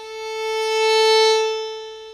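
A violin holds a single bowed note on the A string, swelling smoothly in loudness to a peak midway and then tapering off again, rich in overtones and played alone.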